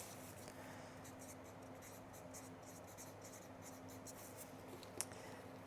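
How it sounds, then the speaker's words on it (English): A pen scratches quietly across small cut plant labels for gladiolus corms, steady faint scribbling strokes close up, alone with a soft tap near the end. "So I'm just going to write pink Shant and then Aria Shant"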